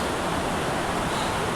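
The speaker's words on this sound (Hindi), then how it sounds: "आपको शायद आवाज़ आ रही होगी पानी की" A fast-flowing river rushes on a trek near Yusmarg, a steady, loud wash of water noise with no break and no voices.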